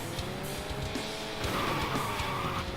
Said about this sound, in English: Big power slide.